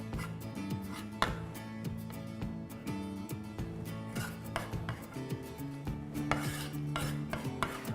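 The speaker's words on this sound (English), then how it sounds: "now I'm going to basically just kind of cube everything and toss it together in a bowl" Knife cubing grilled vegetables, jalapeno and red bell pepper, on a board: quiet, irregular chopping taps with light clinks, set against a steady tonal background.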